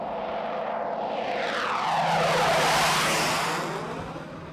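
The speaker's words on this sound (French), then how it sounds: "les vols à basse altitude des avions de chasse" A low-flying military fighter jet passes over the Labrador forest, a broad roar swelling to a loud peak mid-pass and then fading as it moves away, with no voices.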